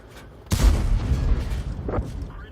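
A 105 leFH18B2 howitzer fires in a video game, a single heavy boom that rumbles on with a long low tail and a fainter second thump near the end, with no speech.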